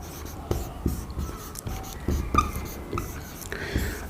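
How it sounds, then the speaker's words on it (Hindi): Chalk or marker taps and scratches on a board during an economics lesson, quiet and intermittent strokes with short gaps between them. "इसको मैं नीचे लिख देता हूं"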